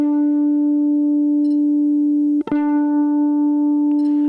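A guitar's D string is plucked at the 12th fret for intonation checking, a steady sustained harmonic-rich tone ringing alone with a brief second pluck partway through.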